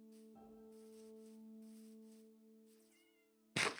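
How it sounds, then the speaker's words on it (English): A cat meows in a survival-crafting video game, one drawn-out, tonal meow over a steady game hum, then a sudden loud burst of noise at the end. "Oh, there's a cat."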